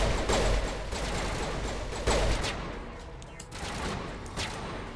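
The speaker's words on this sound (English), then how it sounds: "Who are you people shooting at?" Dense video-game gunfire rattles continuously during a gas trooper encounter, with rapid overlapping shots and a few louder bursts over a constant noisy background.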